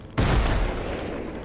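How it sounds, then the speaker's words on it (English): Sudden burst of gunfire in the video game Fallout New Vegas, a sharp loud onset followed by a rumbling rattle of shots that slowly fades. "Who's shooting?"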